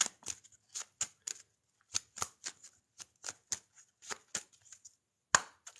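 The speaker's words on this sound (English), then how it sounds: "I cut the deck" A deck of tarot cards is cut and shuffled by hand at close range, a quick run of soft papery slaps and riffles in uneven bursts with brief pauses between, quiet and alone with no talk.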